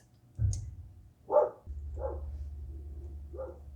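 A pet dog named Shadow barks a few separate times at moderate distance, each bark short and spaced apart, with a low background hum and no talking.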